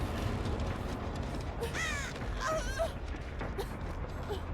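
Crows caw in a video game match, a few harsh rising calls in the middle of the clip over a dense, steady bed of game noise and crowd-like background.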